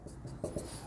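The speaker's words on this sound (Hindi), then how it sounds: "थोड़ा मैं इसको नीचे लिख लेता हूँ" A pen scratching on paper while working a height-and-distance maths problem, steady faint scribbling with a couple of firmer strokes, no talking.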